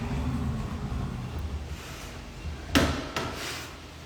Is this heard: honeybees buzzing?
no